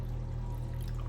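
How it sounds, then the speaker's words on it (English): Water poured into a pan surrounding a cheesecake to make a water bath, filling it about a third of the way up; a steady, continuous pouring wash with no pauses, close and moderately loud. "I'm only going to add the water about 1/3 of the way up the pan"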